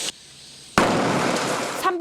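A butane gas can left beside a burning charcoal fire bursts open. A quiet lull gives way to a sudden, loud blast that roars on as a broad, rushing burst for over a second.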